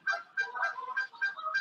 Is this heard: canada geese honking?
yes